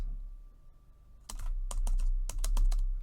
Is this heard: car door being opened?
no